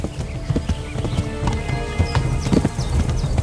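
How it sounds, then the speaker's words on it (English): Horse hooves clip-clop in the medieval game Kingdom Come: Deliverance, a quick steady rhythm of close, sharp hoof strikes with a brief whinny and faint background texture, no talking. "There are numerous horses with varied stats in the game."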